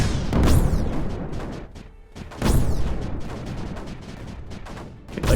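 Mortar launchers in the strategy game Creeper World 4 lob shells in loud, booming volleys, two big bursts about two seconds apart, each followed by crackling, sweeping impacts and a dense rumbling wash.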